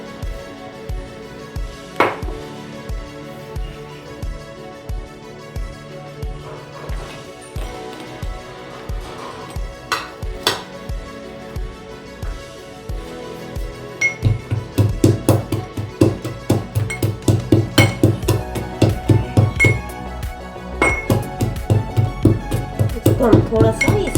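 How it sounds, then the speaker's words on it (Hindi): Almonds and dry fruits being pounded coarsely in a metal mortar and pestle for sago kheer, with steady rhythmic strikes that start sparse and grow faster and louder, ringing clinks between them. "इन सारी चीज़ों को मैं ईमान जस्ते पे थोड़ा सा मोटा मोटा कूट रही हूँ"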